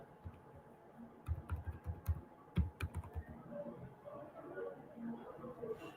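Keys clatter on a computer keyboard in quick irregular bursts, with a few sharper taps standing out, close and fairly quiet over a faint room hum.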